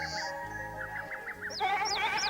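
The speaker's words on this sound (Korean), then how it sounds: "50여 마리의 염소를 기르고 있는데" Goats on a Korean pasture farm where about fifty are kept bleat repeatedly, several calls overlapping, wavering and fairly close, with a steady background hum.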